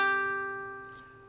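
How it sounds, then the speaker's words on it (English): A ukulele's high G string is plucked once, ringing bright and clear before slowly fading. "You may have a ukulele where the string closest to your nose sounds like this."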